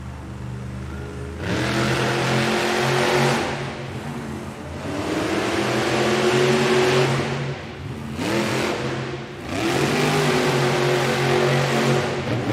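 Gravedigger, a monster truck, revs its engine hard at a Monster Jam arena event in Hamilton, Ontario, in repeated loud surges with brief drops between them, rising and falling in pitch.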